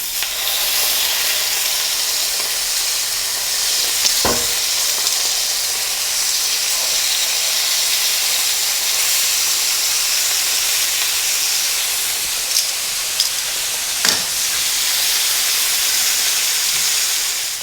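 Pork bistek slices frying in oil in a pan, giving a loud, continuous, dense hiss of sizzling fat that holds steady throughout, with a few faint clicks and taps from the pan.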